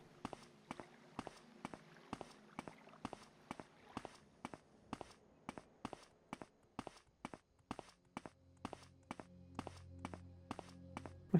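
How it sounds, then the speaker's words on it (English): Steady, evenly paced footsteps from a player character in the video game Morrowind, loud and close, a crisp thud with each step for the whole stretch, with a low hum joining near the end. "My footsteps so loud."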